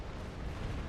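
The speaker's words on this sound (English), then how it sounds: "Oh, that's a big explosion." A big explosion in the space combat game Star Trek Online roars as a dense, loud, low rumble, filling the whole moment with sustained blast noise.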